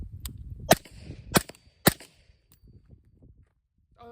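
Three sharp, loud cracks of a suppressed 5.56 M4-size AR-15 rifle fired outdoors, spaced about half a second apart, each with a brief echoing tail, followed by quiet shuffling.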